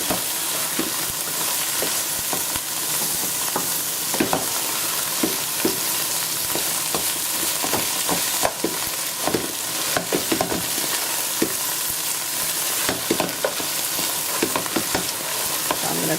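Watercress saag stirred and frying in a pan, a steady loud sizzle with a spoon scraping and knocking against the pan in an uneven rhythm throughout.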